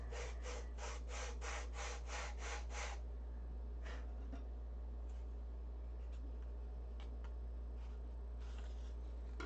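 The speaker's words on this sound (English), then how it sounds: "sand it straight" Hand-sanding a wooden upright for a control-line model: a quick burst of about nine rhythmic rasping strokes, then scattered light scrapes and taps, close over a steady low hum.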